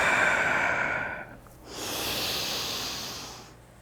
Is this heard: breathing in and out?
yes